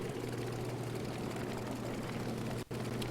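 Grumman F3F biplane propeller engine from Aeroplane Heaven in the FSX flight simulator, a steady droning hum held at even loudness throughout, with one brief dip near the end.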